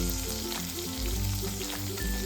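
Stuffed okra (bharwa bhindi), already steamed about ten minutes, frying in a pan with a loud, close, steady sizzle and a few scraping, tonal stirs of the spoon, without any speech.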